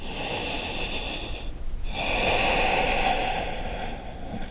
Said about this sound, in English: Deep breathing.